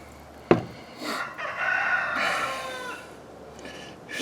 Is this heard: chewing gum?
no